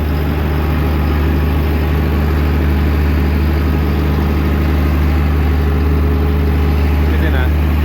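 A farm tractor running with its power take-off engaged while hay is loaded into a wagon on a scale; a loud, steady low engine drone continues without a break.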